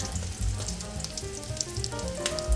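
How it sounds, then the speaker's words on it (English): Eggplant slices fry in a pan of oil, giving a steady, close sizzle with crackling pops and occasional spatter, and no voices. "Let's start the fry. Okay, now we flip it on the other side."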